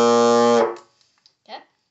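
Bassoon sounding a sustained B flat, a rich reedy tone held briefly and then released, followed by quiet room noise and a faint breath.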